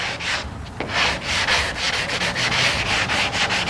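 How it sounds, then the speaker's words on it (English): A PaintFX Soft Sander pad rubs back and forth across a surface in quick, rhythmic gritty strokes, close and steady, with no voices. "You can sand with it."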